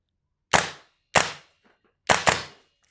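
A Toxicant XM5 airsoft rifle fires on semi-auto, four sharp, close snapping shots with silence between them; the last two come in quick succession.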